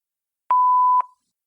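A single clean voicemail beep tone, steady and loud for about half a second, then fading out with a short tail into silence.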